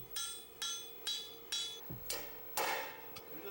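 A hammer pounds a fire-heated lump of iron being forged into armor plate: about eight sharp metallic strikes at a steady pace of roughly two per second, fairly faint and with no talking.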